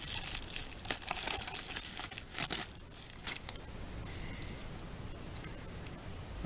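A tight plastic baggie crinkles and rustles as it is pulled open, a dense run of close, crackly handling noise with brief sharper crunches, fairly faint overall.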